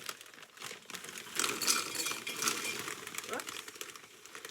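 A plastic bag of Dollar Tree pretzels being opened and poured, giving a close, crinkly rustle that swells for a couple of seconds and then settles, with a brief spoken exclamation.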